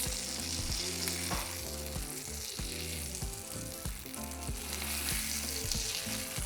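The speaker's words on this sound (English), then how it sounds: "now we're going to be frying 15 saltine crackers or Ritz" Steady, crackling sizzle of saltine or Ritz crackers frying in hot oil, continuous and fairly close, with no voices.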